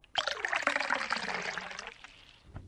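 Water is poured into a glass in one steady splashing stream lasting nearly two seconds, trailing off into a brief trickle and a small knock at the end.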